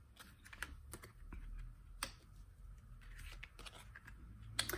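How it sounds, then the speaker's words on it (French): Tarot cards are drawn and handled for a reading, giving a series of soft, close clicks, snaps and rustles in an irregular rhythm against a quiet low room hum. "On va tirer les cartes, du coup 4 cartes pour le domaine relationnel sentimental."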